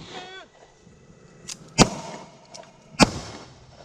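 Gunfire in a video game police chase with Crown Victoria-style police cars, sharp bursts: a faint pop, then two louder cracks about a second apart with a smaller shot between, after a brief voice-like sweep.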